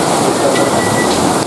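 Rain pouring at an outdoor political rally in Indonesia, a loud, dense, steady hiss of rainfall throughout the short stretch, no talking.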